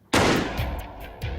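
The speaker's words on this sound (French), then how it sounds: "On va tirer des cartouches de calibre 308 à une distance approximative de 25 mètres." A rifle fires a single .308 calibre round at about 25 metres: one sharp, loud blast that ends a brief quiet, followed by a decaying rumble and echo.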